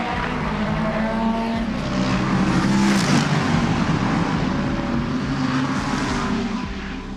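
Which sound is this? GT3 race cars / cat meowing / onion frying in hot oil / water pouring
GT3 race cars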